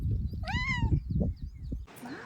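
A cat that climbed the Puy de Sancy lets out one clear, drawn-out meow over low rumbling wind and handling noise outdoors, followed by a brief hissy burst near the end.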